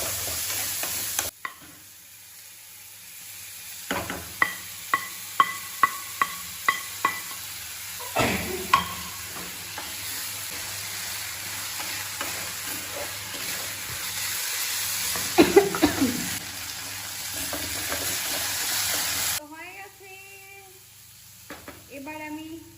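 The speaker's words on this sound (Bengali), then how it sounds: "তো একটুখানি ফ্রাই করে নিই, তারপর আমি মুগ ডালটাও দিয়ে দেবো।" Pointed gourd stirred and fried in a pan, with a steady sizzle running beneath a series of sharp spoon scrapes and taps against the pan, a louder clatter midway, and quieter frying near the end.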